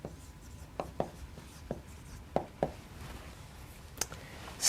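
Chalk or marker writing on a board in a lecture hall, a series of sharp, irregular taps and scratchy strokes, fairly close, over a quiet room hum with no talking.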